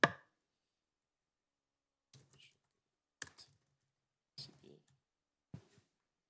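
Sparse, quiet taps on a computer keyboard, a handful of short clicky bursts spaced about a second apart after an initial click, close up and otherwise silent.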